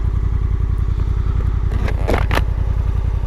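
Honda NT1100 motorcycle rolling slowly to a stop, its engine a steady close low pulsing throb throughout, with a couple of brief hissing bursts near the end.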